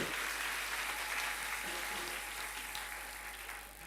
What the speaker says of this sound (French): On acclame très fort pour Jésus.